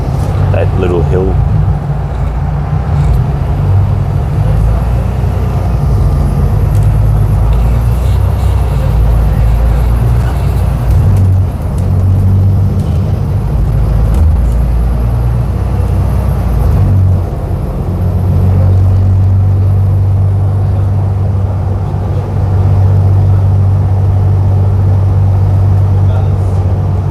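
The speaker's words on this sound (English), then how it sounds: "Now it's pretty easy for these buses to go up the hills compared to their gas bus counterparts, which always struggled" A city bus, not gas-powered, climbing a hill on Route 531 between Cockburn Central and Fremantle stations: a steady, loud interior engine drone and road rumble throughout, with someone talking over it.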